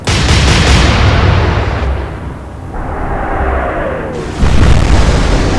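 Heavy warship guns boom in a naval battle game, a dense roaring barrage that thins briefly mid-clip before another loud salvo crashes in near the end.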